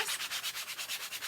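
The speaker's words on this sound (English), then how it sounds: "I'm going to lightly sand my canvas to remove those bumps." Sandpaper lightly sands a canvas to flatten bumps, with quick, even back-and-forth strokes in a steady rhythm, close and soft, with no voices.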